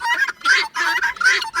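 A pet fowl giving rapid, close chirping calls in quick repeated bursts, loud and clear with no other sounds.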